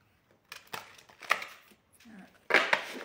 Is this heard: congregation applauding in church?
no